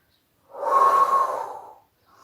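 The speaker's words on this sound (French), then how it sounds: "soufflez par la bouche." A single forceful breath pushed out through the mouth during an abdominal exercise in a circuit-training session, a close, breathy exhale lasting a little over a second and fading out.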